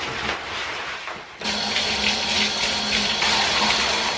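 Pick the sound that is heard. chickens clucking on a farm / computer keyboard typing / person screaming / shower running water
shower running water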